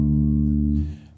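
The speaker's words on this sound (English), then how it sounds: "There's my note D. It should sound like this." A single low, sustained bass guitar note D rings steadily, then fades out as a faint scratchy noise creeps in at the end.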